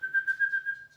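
Someone whistles to summon a dog: a sustained, fluttering high note pulsing in quick bursts for about a second, moderately quiet, with no talking.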